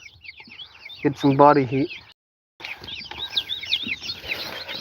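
Young chicks chirp in rapid, high-pitched peeps, close and fairly loud, broken by a short gap, while a voice speaks over part of it.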